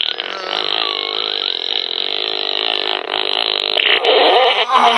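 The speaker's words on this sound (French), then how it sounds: "Vas-y, j'ai envie de péter." A gag fart-gas machine gives a loud, sustained rasping fart-like blare that lasts about five seconds without a break and grows slightly stronger toward the end.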